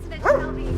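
A dog named Rocky gives a single short, sharp bark, close and fairly loud, with a faint yip-like rise, against a quiet domestic background and no talking.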